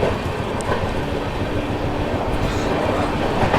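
The Mahabodhi Express runs fast past Sahibabad station, a loud steady rumble of wheels and rushing air heard close by from the moving train, with no distinct talking.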